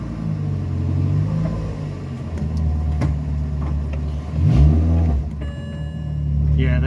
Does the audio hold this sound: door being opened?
no